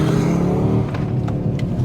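An Audi RS 3 accelerates out of a corner, its engine note rising in a steady loud drone with brief higher-pitched bursts near the end.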